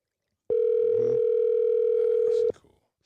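A telephone tone sounds as a steady, loud two-second beep with clean start and stop while placing a call, faint voices and rustling beneath and after it.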